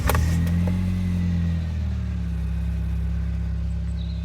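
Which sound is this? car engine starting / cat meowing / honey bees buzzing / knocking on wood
car engine starting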